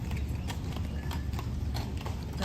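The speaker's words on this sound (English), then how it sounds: "That one horse on the other end, though, is like click-clopping at a fast pace." Horse hooves clip-clop at a quick pace amid city park ambience in New York's Central Park, with a draft-type horse pulling a carriage; steady rhythmic knocks sit over a constant low rumble of traffic.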